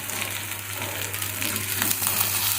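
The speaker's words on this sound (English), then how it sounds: "This one medium fry till it turns to medium golden brown" Crab pieces frying in hot oil toward a medium golden brown for crab curry give a steady, dense sizzle, close and continuous throughout, with no voices.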